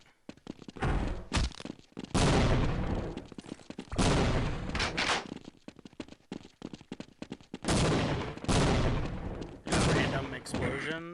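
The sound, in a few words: explosions in a video game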